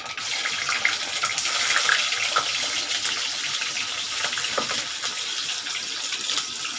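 Green chilies and garlic frying in hot oil in a home kitchen, a steady loud sizzling hiss with scattered crackles that continues without pause, close up and alone.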